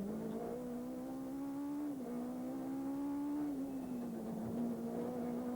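A small Citroën Saxo rally car in the 2000 Rallye Rota do Vidro runs hard along a stage, its engine droning steadily and loud throughout, pitch rising and dipping with gear changes and throttle lifts, without speech.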